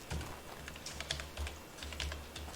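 A computer keyboard is typed on at a steady pace, close by, giving soft rapid clicks over a low background hum, with no voices, while a computer skills lesson is under way.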